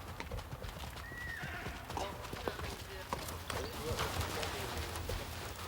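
A pony's hooves clip-clop steadily during an outdoor riding lesson, with occasional whinnies and faint birdsong in the background while an instructor talks throughout.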